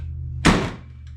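A worn Kawasaki KRX UTV door forced open, a single close, loud clunk over a low idling engine hum.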